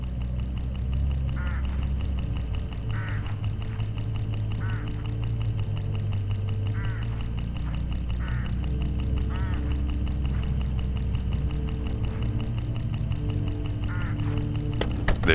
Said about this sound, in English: Look, hooded crows all along this road.